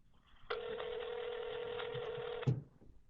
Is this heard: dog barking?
no